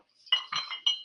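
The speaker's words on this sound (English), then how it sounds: "I put in a big ice cube" A big ice cube clinks against the inside of a glass while a Negroni is being made, giving two or three bright, close taps in quick succession in a quiet room.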